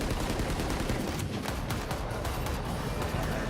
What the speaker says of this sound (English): it's a wall bang to take him down